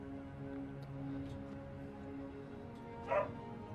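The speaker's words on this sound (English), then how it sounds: "then my dog barked" A pet dog lets out a single short bark near the end, sounding from a little way off over a quiet bed of sustained game music.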